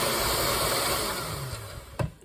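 A steady electric mixer whirs through chocolate cheesecake batter, a continuous close motor drone that eases off near the end, followed by a brief clatter as it stops.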